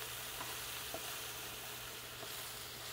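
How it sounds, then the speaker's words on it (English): Mushrooms for a vegetarian lasagna sizzle steadily in a hot pan, a constant close frying hiss with a few faint clicks and no talking. "our mushrooms are cooking good"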